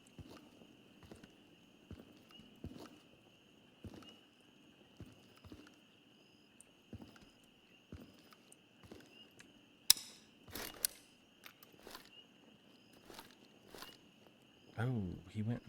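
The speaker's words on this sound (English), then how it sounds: "Do hear footsteps outside." Faint footsteps outside in a video game at a quarry military base, a slow run of soft thuds spaced about a second apart under a steady high tone, then some sharper clicks and a louder burst near the end.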